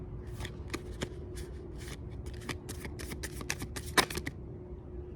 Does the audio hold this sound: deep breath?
no